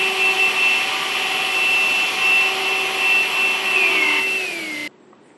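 A KENT ZOOM bagless cordless vacuum cleaner runs with a steady, loud, close motor whine, then its pitch slides downward as it powers off, leaving near silence.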